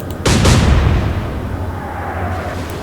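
Warship guns fire in the naval video game Atlantic Fleet, a loud close double boom that rolls into a long fading rumble, with no voices over it.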